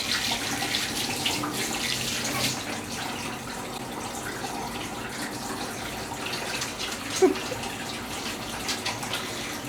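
Water runs from a newly fitted kitchen tap into a sink, a steady close hiss and splash lasting throughout, with one brief clink partway through.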